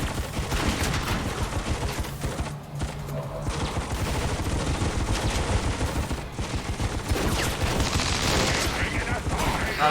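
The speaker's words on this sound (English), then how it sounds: "now he's shooting twice" Sustained gunfire from the game XCOM 2, a dense, continuous rattle of rapid shots and mechanical clatter filling the whole stretch, with talk faintly underneath.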